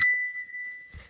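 A single ring of a secondhand bicycle bell, bought for one pound at a charity shop: one bright metallic ding that rings on and slowly fades for about a second, with a little handling noise at the end.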